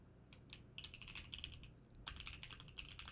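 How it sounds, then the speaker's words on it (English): Fast, light typing on a computer keyboard, with bursts of key clicks that pause briefly and start again, heard quietly and with no voices. "I'm typing it for you."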